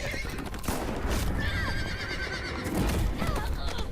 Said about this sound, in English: we see like things like a horse dies in a burning hallway